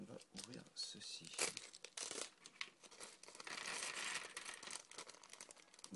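Mega Bloks packaging for a UNSC Cyclops Jungle Strike set is torn open, giving bursts of plastic crinkling and tearing over about six seconds, fairly close, with a voice talking at times.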